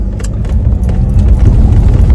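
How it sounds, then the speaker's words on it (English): Heavy road traffic with trucks rumbling past, a loud, steady low engine drone that fills the whole stretch with no talking. "There's a bunch of trucks in the way."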